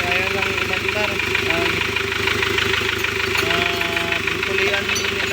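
A Hyundai Porter with a D4CB CRDi diesel engine runs steadily after starting, a continuous mid-pitched engine drone with a knocking undertone that stays loud and close throughout, with background voices present.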